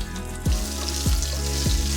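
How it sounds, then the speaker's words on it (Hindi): Cumin, cloves, black and green cardamom, cinnamon, bay leaf and onion fry over high heat in a pan, with a loud steady sizzle and about three stirring scrapes. "लौंग, काली इलायची, हरी इलायची, दालचीनी, तेज़ पत्ता और प्याज मीडियम कटे हुए डालकर तेज़ आंच पर 2 मिनट तक भूनें।"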